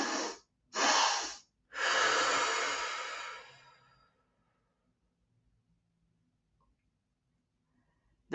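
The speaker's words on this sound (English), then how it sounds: "you breathe in through your nose 2 times without breathing out, and then you have like a long breath out through your mouth" Someone takes two quick sniffs in through the nose, then lets out one long, audible breath through the mouth, close and clear, followed by silence.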